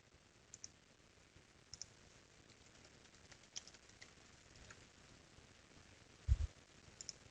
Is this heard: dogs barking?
no